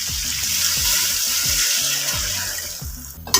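Stock pours into a hot karahi of fried beef, hissing and sizzling steadily with a bubbling liquid splash throughout, no voices.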